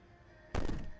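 One heavy thud against a door in the game Slay the Princess, a single sharp blow that rings briefly after a near-silent lead-in.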